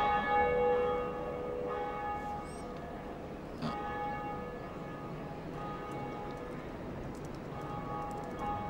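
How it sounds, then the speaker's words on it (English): Bell ringing in the video game Dark Souls, a few clear metallic strikes with long sustained ringing tones that layer and slowly fade over a steady noisy background. "Ring that bell."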